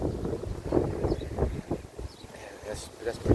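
Wind gusts buffet the microphone at a campsite during changing weather, rough rumbling bursts that rise and fall while people talk nearby.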